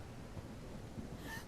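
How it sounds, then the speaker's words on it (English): A single soft hiccup from a sick character in a zombie survival game, a brief faint catch near the end of a short stretch of low background noise. "I heard a hiccup."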